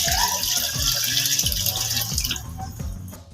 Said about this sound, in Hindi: अभी हम दूध शामिल कर देंगे।